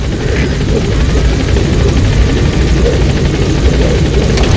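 A helicopter in Metal Gear Solid V, played on Xbox Series X, roars loudly and continuously with a throbbing rotor chop over a dense engine rumble.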